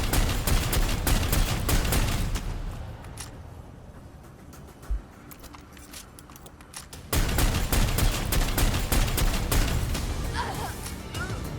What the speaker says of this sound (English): Yeah, we can shoot you from up here.